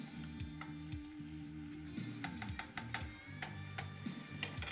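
Food sizzles steadily in a hot pan while browning for mac and cheese, with scattered light clicks and scrapes over a low tonal hum.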